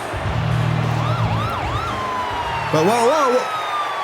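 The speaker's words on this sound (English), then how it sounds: "Folks, the ambulance coming down the ramp here." An ambulance comes down the ramp at a wrestling event, its siren wailing in rising and falling sweeps and then shifting to a rapid yelp, over crowd noise, with a voice briefly exclaiming.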